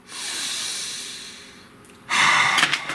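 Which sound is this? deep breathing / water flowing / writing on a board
deep breathing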